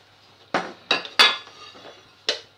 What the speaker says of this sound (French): nous allons mettre une plaque spéciale pour râper